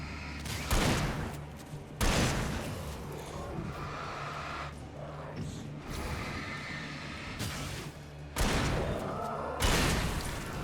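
Gunshots in the video game Alan Wake: several loud, sharp blasts spaced a couple of seconds apart, each with a booming tail, over a low rumbling game ambience.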